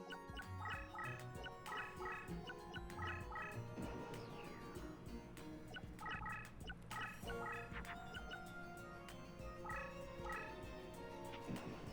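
A chicken monster cries out in the Yu-Gi-Oh! Duelist of the Roses video game: repeated gobbling, warbling squawks over a steady layer of game music, lasting several seconds with no voices.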